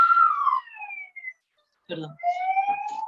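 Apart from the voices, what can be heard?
ambulance siren passing outside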